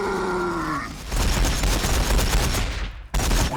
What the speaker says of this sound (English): I think I'm just going to shoot these plasma guns.